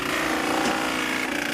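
A Horizon BQ-160 perfect binder starts its binding cycle after a book block is clamped, giving off a steady, loud mechanical whirr and grinding hum that holds even from start to finish.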